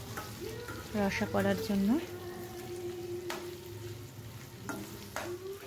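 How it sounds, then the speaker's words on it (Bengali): Paneer frying lightly in a pan on a stove, a steady soft sizzle running throughout with occasional stirring scrapes, while someone talks over it near the start. "আর একটা ওভেনে আমি পনিরগুলো হালকা করে ফ্রাই করে নিচ্ছি"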